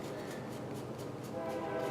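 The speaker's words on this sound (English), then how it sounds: "Oh! Train!" A train passing near a house in the woods makes a steady, broad rumble with faint rhythmic rattling and a low tonal drone, continuous and moderately distant.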